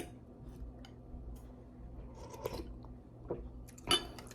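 Quiet, close chewing and crunching while someone eats beef papaitan soup with rice, with soft mouth sounds, a small clink and a brief sharper crunch near the end.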